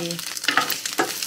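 Tofu with wild garlic fries in a pan, a close crackling sizzle with small bursts of popping and a brief clatter of stirring.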